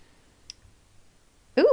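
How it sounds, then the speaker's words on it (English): A tarot card flips and slaps right onto a microphone, making a sudden loud, close thump and rustle after a near-silent stretch with one faint earlier click. "I flipped a card right on the microphone."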